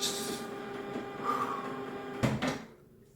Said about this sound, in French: au moment où j'allume le vlog, l'imprimante se met en route